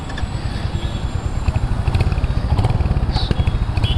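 Royal Enfield Hunter 350 motorcycle engine running steadily at close range, a continuous low throbbing thump with a rough mechanical clatter, building slightly louder toward the end, with no talking.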